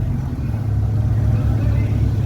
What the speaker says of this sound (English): Z3 based Ferrari replica there